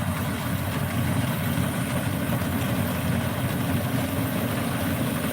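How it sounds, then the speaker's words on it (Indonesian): A combine harvester engine runs while harvesting Ciherang rice, making a steady, loud, continuous rumbling drone with a dense mechanical rattle and no pauses. "dengan mesin kombi harvest"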